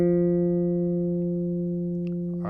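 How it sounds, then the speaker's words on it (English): A bass guitar's F note sounds as a steady sustained tone with strong harmonics, rung out by tapping while the string is muted, holding evenly and slowly fading, with a faint tap near the end. "So this is me tapping the F while the string is muted."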